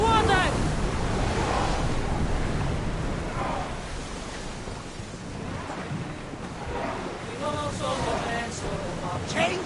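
A sailing ship ploughs through ocean waves in a PS4 Pro video game: a steady, full wash of surf and wind rushing continuously with swelling and easing surges and no distinct breaks.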